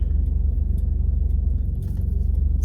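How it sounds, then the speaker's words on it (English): Car traffic heard from inside a vehicle stuck in a jam, a loud, steady low engine and road rumble with a few faint clicks, no talk. "So I'm currently stuck in traffic"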